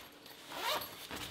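A zipper on a Westcott Apollo strip box softbox is pulled open in one quick, close rasping stroke.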